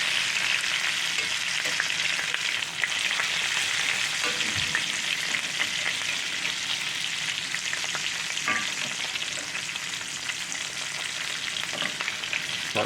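A New York strip steak sizzling in a cast iron skillet while garlic butter is spooned over it, a continuous close frying hiss broken by occasional spoon scrapes and bubbling pops, no speech.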